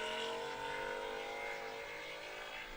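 A 1991 Acura NSX race car drives in an open road race, its engine a steady, distant drone with a rising tonal whine, with no talk over it.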